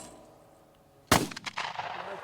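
A single sharp gunshot cracks out from a gun fired outdoors at a guest ranch, loud and sudden after quiet, followed by a rolling echo that trails off.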